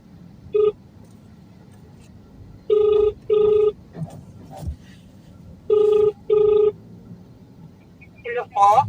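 Outgoing phone ringback while a delivery driver calls a customer, heard as repeated paired electronic tones with short pauses between them. The tones are close and clear, with faint background noise and brief clicks between the pairs.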